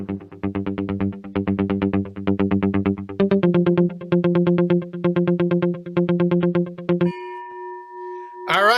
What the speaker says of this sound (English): Thank you, breaking news gong.